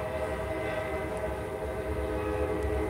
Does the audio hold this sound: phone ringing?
no